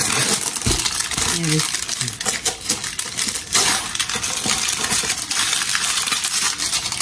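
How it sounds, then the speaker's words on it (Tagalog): Paper packing is pulled out of a box during an unboxing, giving a run of crinkling and rustling bursts with a few sharper clicks, close up. A voice is briefly heard in the background. "Ngayon ko lang alisin yung mga papel."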